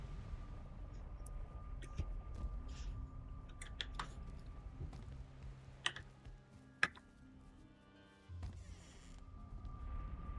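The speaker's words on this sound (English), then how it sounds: "And also stop typing." Computer keyboard keys clicking in quick irregular bursts, faint and close, with a soft background hum and a few louder taps.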